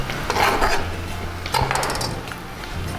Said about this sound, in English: I'm going to throw my mushrooms in